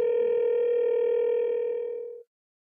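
An iPhone places a call to a tapped phone number, producing a single steady electronic tone held for about two seconds, clean and close, then fading out with no other sound.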